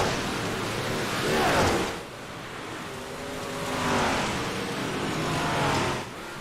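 Dirt track race cars on the final lap, their engines swelling as they roar past in repeated waves, loud and sustained with Doppler-like rises and falls, with no voices.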